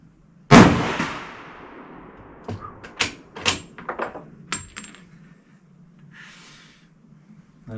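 A Berthier 07/15 WWI French rifle firing: one sharp, loud shot with a long decaying tail, then several short metallic clacks of the bolt action, and a brief soft rustle near the end.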